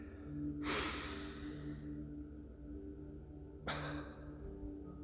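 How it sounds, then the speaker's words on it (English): A deep breath drawn in, then let out in a long exhale during a breathing exercise, followed about three seconds later by a second sharp intake; close and alone over a low steady hum. "So you take a deep breath in"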